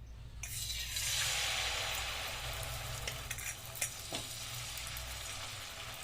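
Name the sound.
dosa (potato dosa batter) frying on a hot pan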